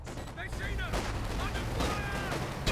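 Repeated rifle and sniper fire crackles through a busy real-time strategy battle in a Company of Heroes tournament match, dense shots and impacts layered over a continuous din, with a commentator talking over the action.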